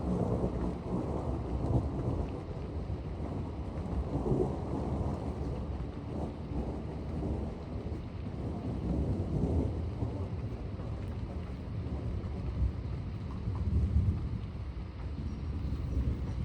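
Deep, rolling thunder rumbles through a severe thunderstorm in Troy, Illinois, layered over a steady hiss of heavy rain and gusting wind noise, with swells of louder rumble at the start and again near the end.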